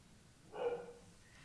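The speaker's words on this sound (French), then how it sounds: "Je serai jamais tranquille avec ces chiens" A dog gives a single short bark, muffled and fairly distant, lifting briefly above a quiet room background.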